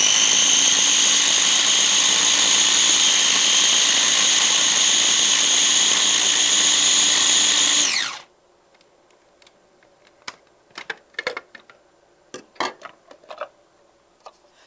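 A food processor grinding a handful of pistachios runs loud and steady with a high whine for about eight seconds, then stops abruptly, followed by faint scattered clicks and taps.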